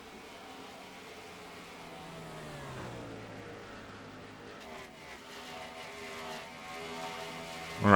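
Race cars in NASCAR Racing 2003, a continuous engine roar with rising and falling pitch as cars rev and pass, moderate and steady, swelling louder at the very end.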